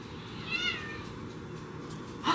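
A house cat named Miss Lucy San gives one faint, fairly short meow early on, followed by a quiet indoor lull and a brief sharper sound at the end, with no talking.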